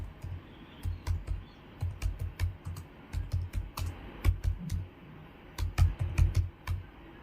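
Someone types React code on a computer keyboard, with quick, close clicky keystrokes in uneven bursts and short pauses between them, and no talking.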